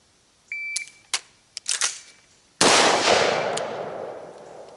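During an emergency reload drill with a 13.7-inch rifle, a few sharp metallic clicks and clacks of handling come first. Then one loud, close rifle shot booms and its echo trails off for about two seconds.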